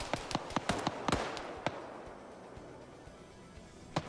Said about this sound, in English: now they're using the Dishka to try to fire down here